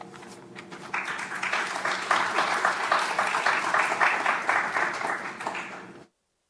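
Audience applause welcoming a speaker at a presentation, a crowd clapping at steady strength for about five seconds, then tapering off and cutting out.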